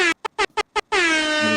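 An air horn blasts in four short honks and then one long sustained blare, loud and close, with no talking over it.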